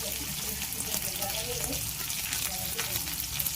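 Tomatoes and onions fry in hot mustard oil in a kadhai, giving a steady, close sizzle with faint stirring and no talk.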